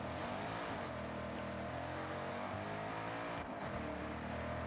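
A trophy truck engine drones steadily in the Forza Horizon 6 racing game, a loud, sustained low rumble while driving, with a brief dip in pitch partway through.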